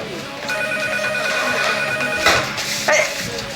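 A telephone rings steadily with a bright electronic trill, repeating without a break, while a voice speaks briefly over it in a room.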